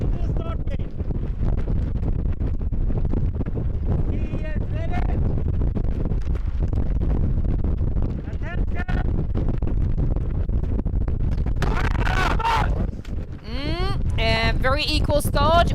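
Strong wind buffets the microphone continuously at an outdoor ski cross race, a loud, steady roar that fills the whole stretch, with faint tonal whistles and rustles near the end.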